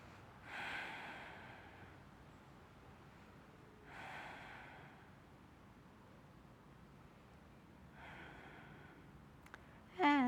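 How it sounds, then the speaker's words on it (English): Three slow, soft breaths spaced a few seconds apart during a gentle yoga stretch, faint and hushed over quiet room noise, ending with a brief louder rustle. "Breathing."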